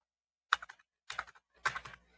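A one-time passcode is tapped out on a computer keyboard in three quick bursts of close, crisp keystrokes separated by short silences.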